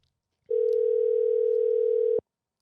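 A telephone dial tone sounds as someone places a call: one steady, clean, fairly loud tone runs unbroken for nearly two seconds, then stops abruptly.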